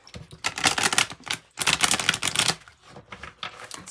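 A tarot card deck is shuffled and handled up close, with two long bursts of crisp riffling flutter and shorter card snaps after them.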